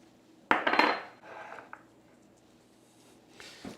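A cutting board being cleared with a sharp clatter of knife and board against a counter, then quieter scraping and scattered taps, ending in a final knock.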